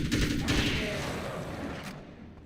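Loud gunfire in Alan Wake's American Nightmare, a burst of dense shots at the start that trails off into a fading echoing rumble.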